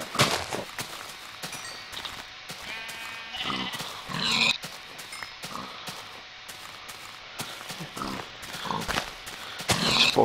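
Sheep in the Minecraft video game bleat repeatedly, short nasal cries scattered across the clip over clicks and footstep-like game sounds, with no one talking.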